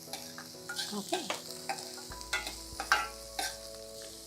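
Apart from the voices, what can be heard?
garlic and spring onions frying in a pan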